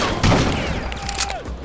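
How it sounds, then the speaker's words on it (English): A shotgun in the vampire action game BloodRayne fires with a loud, booming blast, and a brief flurry of gunfire and impacts follows close up, with no talking. "there's a really great shotgun that can literally blow enemies apart"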